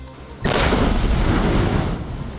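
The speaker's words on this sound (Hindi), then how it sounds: "जम्मू पुलिस और सेना ने विस्फोटक लगाकर आतंकी फारूक अहमद का घर जमींदोज कर दिया" A loud explosive blast demolishes a militant's house in Kupwara, set off by police and army; after a quiet lead-in, a sudden heavy boom bursts out and rolls on as a sustained rumbling roar of debris to the end.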